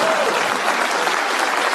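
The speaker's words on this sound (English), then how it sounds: "Please clap." Audience applause at a political rally, a short burst of dense clapping from a crowd, steady and fairly loud, heard alone.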